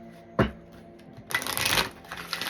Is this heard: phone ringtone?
no